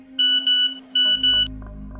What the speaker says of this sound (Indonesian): SMS itu masuk ke HP Mbak Fitri